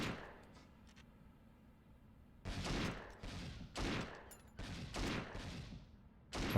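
Several loud bursts of rapid gunfire from the video game Agent Under Fire come in four or five separate volleys, each sharp and close, with quiet gaps between them.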